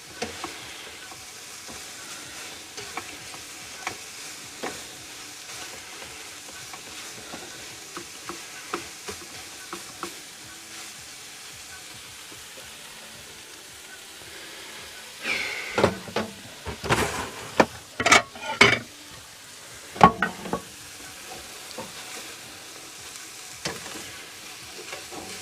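Scrambled eggs sizzling steadily in a pan, a low frying hiss punctuated by scraping stirs and utensil clinks that grow busier and louder midway before settling again.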